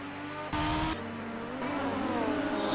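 Racing cars in the F1 2018 video game at the British Grand Prix, with engines droning and easing off as they slow under a virtual safety car. The steady engine tone shifts pitch, and a brief louder burst comes early on.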